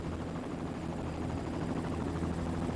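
A helicopter hovers over a stage of the 2017 Tour of Hainan cycling race, its steady rotor and engine roar loud and continuous throughout, with no voices.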